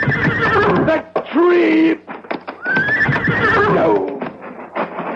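A horse named Stargazer in a radio drama, spooked and running near trees, gives loud, close whinnies over clopping hooves while someone speaks a few words between the calls.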